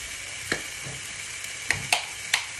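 Curry spices, garlic, chilli and mustard seeds fry in a pot, giving a quiet, steady sizzle broken by a few sharp pops and crackles.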